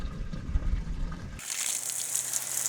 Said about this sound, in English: fill the reservoirs with water until you see them overflowing out of the overflow hole